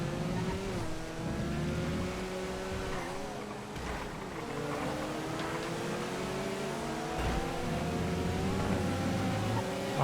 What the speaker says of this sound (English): That is a lot of traffic.